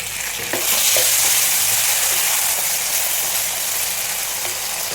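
Green chilies and tomato sauté in a pan of hot oil while a potato soya roast is being made. A steady, close frying sizzle with a soft hiss runs throughout, and there is no talk.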